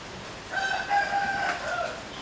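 Rooster crowing once at moderate distance, a drawn-out harmonic call rising then falling over about two seconds, outdoors against a steady background hiss with no talk.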